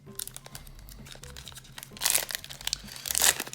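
Plastic and cellophane wrapping on a Pokémon Zacian card box crinkles and crunches up close as it is opened, with soft rustling swelling into two louder bursts of tearing crackle.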